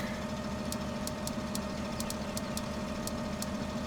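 A tractor engine in Farming Simulator 17 idles with a steady mid-low drone, overlaid by faint, evenly spaced high ticks, with no voices.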